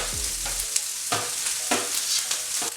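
Leftover rice with sausage and pineapple frying and being stirred in a hot pan, a loud continuous sizzle broken by several scraping stir strokes, with no talking.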